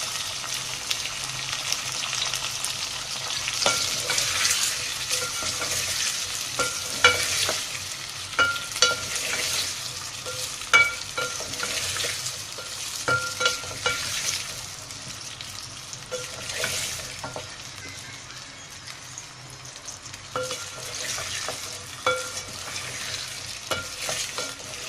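Sliced potatoes fry in hot oil for a potato fry dish, sizzling steadily throughout while a spoon stirs them, with clicks and scrapes of the spoon against the pan standing out at intervals.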